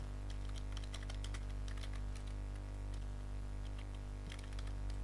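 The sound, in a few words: typing student names on a computer keyboard in Excel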